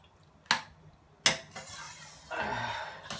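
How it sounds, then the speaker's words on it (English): Spaghetti bolognese sauce with beef stock is stirred in a pot: two sharp utensil knocks against the pot, then a softer wet scraping and sloshing of the thick sauce. "Just give it a quick mix"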